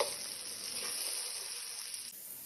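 Vegetables for paella sizzle steadily in a hot pan, a close, continuous frying hiss that stays even throughout.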